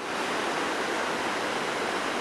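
Broad, steady rush of Roaring Brook's water heard from a high ridge on Giant Mountain, a constant dense roar with no pauses or voices.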